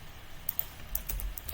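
Computer keyboard keys clatter in a short burst of crisp, close taps while pasting with Ctrl V, a few scattered clicks at first and then a quicker cluster, over faint room hum.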